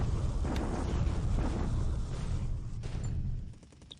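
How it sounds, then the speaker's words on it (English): A deep, sustained rumbling roar of bombardment from the wargame War in the Pacific - Admiral Edition rolls for several seconds, loud and boomy before fading near the end. "We should maybe do a return bombardment."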